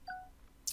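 A mobile phone gives a short, faint electronic notification chime with two brief tones, followed by a quick soft click, heard alone in a quiet room.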